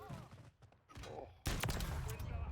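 Gunfire in Call of Duty, a dense burst of loud shots erupting after quieter muffled game noise and faint voice, sustained rattling to the end.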